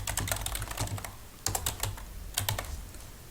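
Typing on a computer keyboard while entering text into an Excel spreadsheet: rapid bursts of close, clicky keystrokes in quick irregular runs with brief pauses between words.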